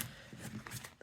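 A deck of tarot cards being shuffled by hand, a quiet, brief riffle of soft papery flicks close by.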